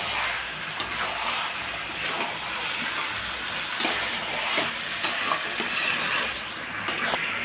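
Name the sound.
mutton sautéing with chili and coriander powder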